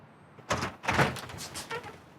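During a police raid, a door is opened with a couple of quick knocks and thuds, followed by a faint rattle as it swings, all close and quiet.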